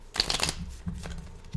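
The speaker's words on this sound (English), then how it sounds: "I've been shuffling this deck for a while" A deck of playing cards riffled and shuffled close up, a quick papery burst of flicking cards followed by softer shuffling and tapping, quiet with no talk.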